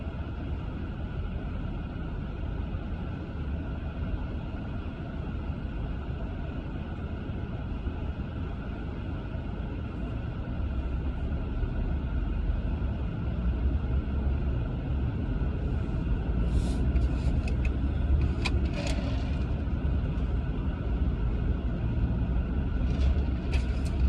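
Steady low engine and road rumble from a car crawling through dragging, stop-and-go traffic, heard from inside the cabin, with faint higher rattles and clicks toward the end.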